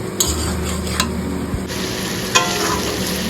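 Spice paste for a fish curry fries in oil while a utensil stirs it, giving a continuous sizzle with scattered scraping clicks against the pan, close and without talk.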